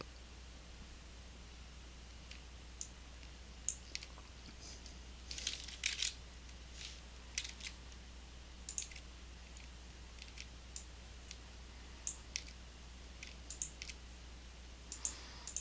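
A computer mouse clicks now and then in Photoshop with the type tool, sounding as faint, sparse ticks and small clusters of clicks over a quiet, steady background hum, close and without speech.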